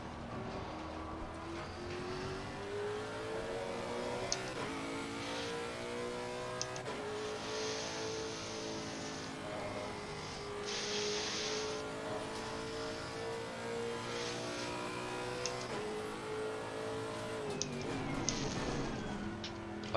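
Race car engine in a sim racing game at the Nurburgring, driving in traffic: a steady, close engine drone with rising revs and repeated gear-change dips over about twenty seconds, no talking.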